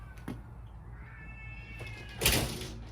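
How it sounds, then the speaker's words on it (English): A cat lets out a short, drawn-out meow at moderate distance in a quiet indoor room, followed by a brief clatter or rustle nearby. "Damn cats."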